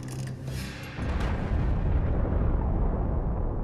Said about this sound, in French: les États-Unis font exploser la plus puissante bombe H jamais testée